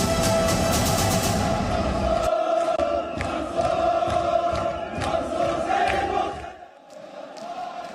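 Thousands of protesters fill the streets of Iraq, a loud, dense crowd roar of chanting and shouting that continues steadily before fading near the end.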